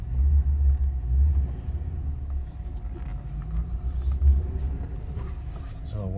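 A 2009 Ford Crown Victoria Police Interceptor on a test drive, heard from inside the cabin as a steady low engine and road rumble with faint creaks and mechanical noises.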